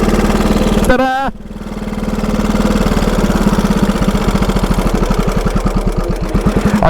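A 109-year-old TT racing motorcycle engine runs loud and close with a steady, lumpy thumping beat that speeds up slightly, broken by a short burst of talking near the start.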